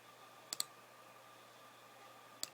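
A mouse button clicks twice in quick succession, then a second double click follows about two seconds later, crisp and near against a quiet room.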